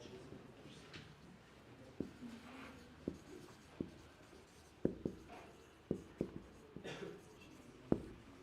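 Pen scratching on paper while notes are taken during a social psychology lecture, with soft continuous strokes broken by about a dozen distinct taps and clicks at irregular intervals, close and fairly quiet.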